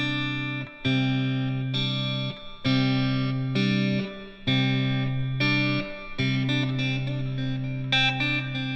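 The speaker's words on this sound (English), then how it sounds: "So what I want you to do is play C and make it sound like this." Electric guitar holding a C note through effects, distorted and swirling with chorus and reverb, struck repeatedly in roughly one-second pulses with brief gaps, loud and alone.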